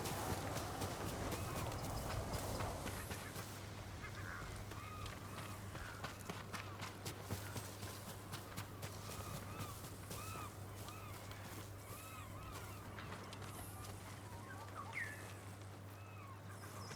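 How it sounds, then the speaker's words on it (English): A bird calls repeatedly in the Ghost of Tsushima game world on Iki Island, with brief chirping notes over steady running footsteps and hoofbeats. "Where's that bird taking us?"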